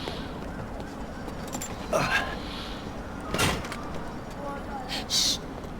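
A door opens in the Max Payne 3 video game, heard as a few soft thuds and clunks spread across the moment over a low ambient game backdrop, with no clear voices.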